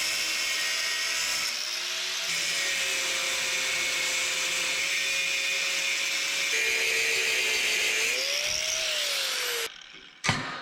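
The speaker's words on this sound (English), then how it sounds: "I use the grinder to kind of follow my line there just where I could see it" An angle grinder runs continuously against the sheet metal of a 1961 Chevrolet wagon while tracing a cut line, giving a loud, steady high-pitched whine with slight pitch shifts, then cutting off abruptly near the end.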